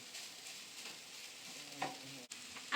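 Onion being stirred in a pan over low heat, a steady soft sizzle with scraping strokes of the utensil, close and continuous with no talking.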